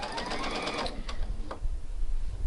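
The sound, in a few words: sewing machine stitching a stay stitching line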